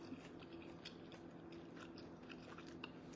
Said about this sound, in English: It's so chewy. I'm still chewing.